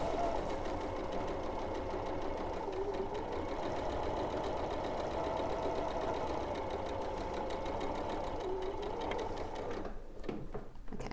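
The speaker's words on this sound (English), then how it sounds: "Then I'm going to sew a 1/4 of an inch away from that line on each side." A sewing machine stitches a quarter-inch quilt seam on a Sanderson quilt, running in a steady, continuous mechanical whir at close range for nearly the whole stretch, stopping just before the end.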